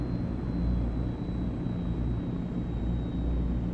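Steady, loud drone of the Transall C-160 military transport's turboprop engines in Microsoft Flight Simulator 2024, a continuous low rumble with a faint high whine held evenly throughout, no voices.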